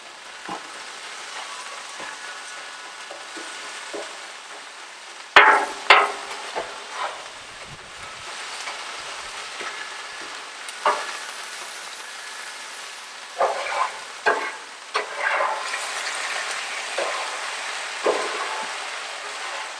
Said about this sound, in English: So I'm moving these veggies around because that ice that's on there is melting off, and it's cooling the Blackstone, or the griddle